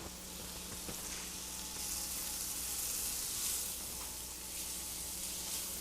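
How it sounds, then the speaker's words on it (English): Onions and baby bella mushrooms sizzle steadily in a hot pan, a soft continuous frying hiss with faint crackles, heard alone without talk. "Now we are going to cook this just a little bit until the onions turn colors."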